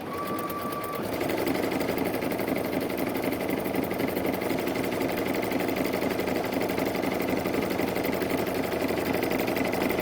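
Baby Lock Anthem sewing machine stitching a scallop pattern, a steady rapid mechanical whirr and needle clatter running continuously and close, louder after a brief quieter start, with no talking.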